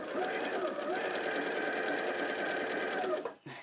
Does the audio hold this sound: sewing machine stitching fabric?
yes